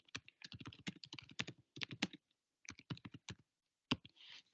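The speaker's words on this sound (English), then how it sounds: "you get to see my really quick typing" Rapid bursts of keystrokes on a computer keyboard while mapping proposed woodland planting areas, close and crisp, clattering in quick runs with short pauses between and no talk.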